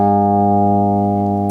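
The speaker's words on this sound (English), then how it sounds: "So my A string should be an A string, but it's flat" A guitar's A string, tuned flat so it rings near G sharp, sustains as a steady harmonic-rich tone throughout, loud and alone, with a brief hiss near the end.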